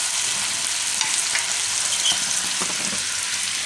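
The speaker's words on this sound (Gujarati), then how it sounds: "વચ્ચે વચ્ચે બટેટાને હલાવતા રહેવું." Potatoes fry in a pan with a close, loud, steady sizzle while a spoon stirs them in scattered scraping strokes. No one speaks.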